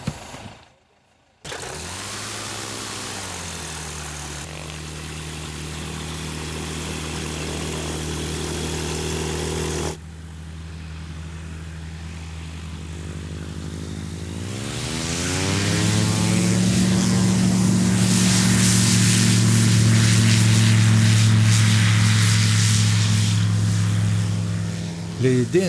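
An ultralight aircraft engine and propeller start up and hold a steady drone, then rev up into a louder, rising roar with a strong buzzing hum as it readies to fly.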